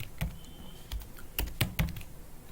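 Someone types on a computer keyboard: several distinct, fairly loud key strikes in an irregular rhythm, some single and some in quick pairs, heard close up with no talking.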